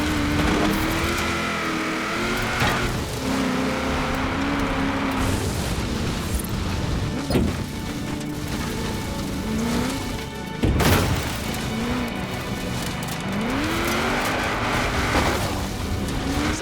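A car in Forza Horizon 4 accelerates and drives hard. Its engine climbs through repeated rising revs with gear shifts, and a sharp bang or thump lands partway through.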